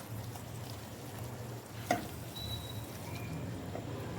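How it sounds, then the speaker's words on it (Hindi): Whisked yogurt being stirred into sizzling chicken masala in a pan, a steady close frying hiss with soft stirring scrapes and one sharp clink of the spoon partway through. "इस टाइम पे हम इसमें डाल देंगे दही को और अब हम इसको अच्छे से करेंगे मिक्स"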